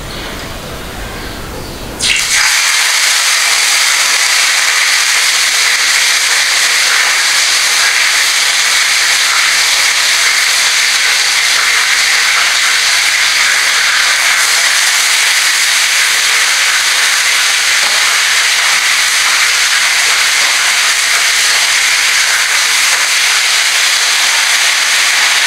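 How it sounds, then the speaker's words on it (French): Fish grilling in a home kitchen gives a loud, steady hissing sizzle that starts abruptly after a brief quieter moment and holds without a break, with no talking. "pendant que mon poisson est en train de cuire"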